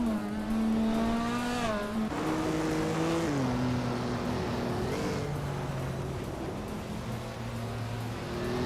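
A 1961 MG MGA race car engine roars close and loud throughout, its pitch climbing and then dropping in steps as it shifts through the gears under racing load, with no voices.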